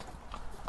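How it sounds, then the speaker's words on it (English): Racehorse Neon Moon walking back to its stable yard, a few hollow hoof clip-clops at an unhurried pace, close but soft, very brief. "you might as well film him going back into his stable"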